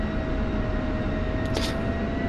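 Steady, loud jet engine drone from a jet aircraft taxiing in the DCS flight simulator, a constant broadband roar with a steady whine and a brief hiss burst partway through, no talking.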